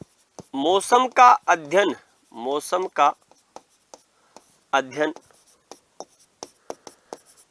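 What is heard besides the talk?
writing on a board during a lecture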